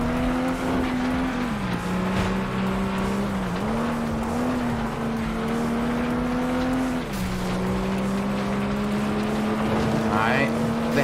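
Race car engine in the FlatOut 2 video game, a loud steady drone that dips and swells as the car brakes and slides through a corner, with a faint voice talking underneath.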